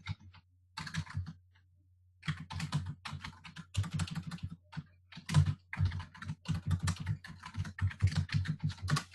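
Bursts of rapid clicking keystrokes on a computer keyboard, close and crisp, in uneven clusters separated by brief pauses, with a low steady hum beneath and no talk.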